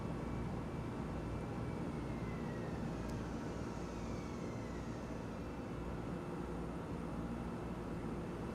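The engines of a DHC-4 Caribou military transport plane drone steadily and evenly in a flight simulator game, a faint, continuous hum with no talk.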